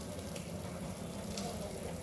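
Potatoes frying in a pan on a home gas stove in Bangladesh, giving a steady, dense sizzle throughout with no talk over it.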